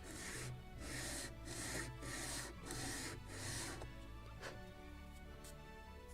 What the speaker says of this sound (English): So I will use also my big sanding block.